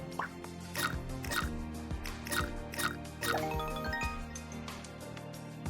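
Coffee poured in Amber's Airlines: a quick run of bright, wet drip and plink sounds in an uneven rhythm, clean and close, with a liquid squish running through it.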